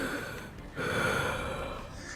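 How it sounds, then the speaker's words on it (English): A game character from Goddess of Victory: NIKKE breathing right into the mic, a close, loud, airy breath that swells sharply after a brief pause and holds for over a second. "I really don't like that breathing right in the mic thing"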